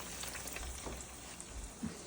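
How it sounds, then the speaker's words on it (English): Chicken cutlets sizzle steadily in very hot oil on a gas stove, a soft continuous frying hiss with faint pops, heard alone at close range. "now it's frying"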